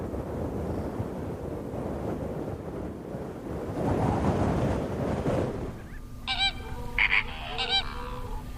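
Birds near a spring lake by the Merzouga dunes, with pink flamingos among them, give several loud honking goose-like calls in a short burst after a stretch of wind and surf-like rushing noise.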